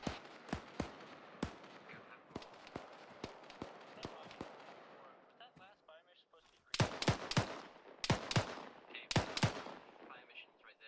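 Mortar rounds from a video game barrage landing in a series of sharp, booming impacts, scattered at first and then bunched into heavy clustered volleys, fairly close, with faint voices in the background.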